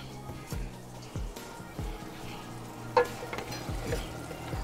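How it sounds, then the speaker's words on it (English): A whole stick of butter melts in a hot pan with a steady, close sizzle, broken by a few scraping stirs and soft knocks of a utensil. "whole stick of butter in the pan. It starts to melt right away."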